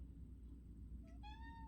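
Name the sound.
cat meowing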